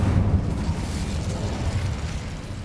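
An Incendio fire spell in Hogwarts Legacy roars out as a loud, sustained burst of crackling flame, a dense rumbling whoosh holding steady throughout.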